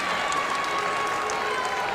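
A Michigan basketball crowd stands and applauds as players head to the bench during a college game against Providence, a steady, dense wash of clapping and murmur that fills the arena without pause.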